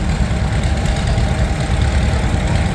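A 1937 unstyled John Deere tractor engine idles steadily and loudly at close range, with a continuous low, throbbing rumble and no pauses.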